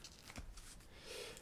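Pokémon card booster packs from a Mew 151 Ultra Premium collection are torn and shuffled open close by, giving short papery rips and card-sliding rustles.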